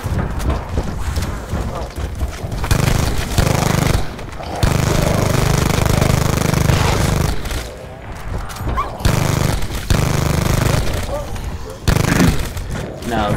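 A Spitfire gun fires in Call of Duty Zombies on the Dead of the Night map, dense rapid automatic bursts with brief pauses between strings, loud and close amid game noise.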